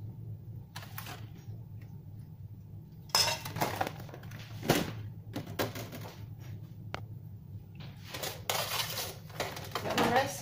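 Food is stirred in a pot with metal utensils, giving irregular clinks and scrapes that grow busier and louder partway through, close up with no talk.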